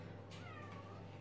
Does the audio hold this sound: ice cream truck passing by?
no